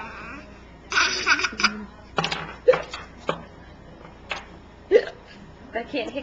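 A small child hiccups several times in a quiet room, short sharp bursts spaced irregularly, mixed with soft giggly vocal sounds and some adult voice nearby.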